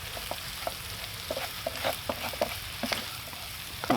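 Flour being stirred into sausage fat for gravy in a pan on a Firebox Ultra camp stove, with a steady sizzle broken by scattered scraping stir strokes and pops throughout.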